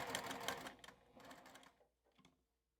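A home sewing machine runs a seam along a folded edge of fabric, a busy mechanical stitching whir in quick bursts that slows, pauses, and gives a last short run before stopping.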